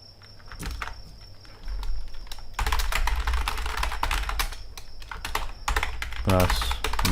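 Java code is typed on a computer keyboard in rapid, uneven bursts of close key clicks that run throughout, with a soft voice speaking briefly near the end.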